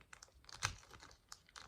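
A Mamba candy wrapper being torn open, a quiet series of short crinkling and tearing bursts close by with one sharper rip in the middle, no talking.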